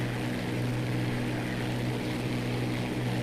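A Spitfire's aircraft engine drones continuously in the IL-2 flight game, a loud steady propeller roar with a strong low hum and no break.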